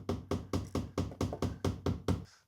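About nine evenly spaced knocks on a concrete mould, struck close in a steady quick rhythm, then trailing off into quiet, with no talking.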